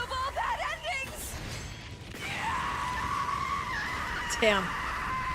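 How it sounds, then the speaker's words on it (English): A woman in the video game Hundred Line: Last Defense Academy lets out shrill, wavering screams followed by a sustained high cry, with a man's brief spoken remark. "She knows how to scream, girl."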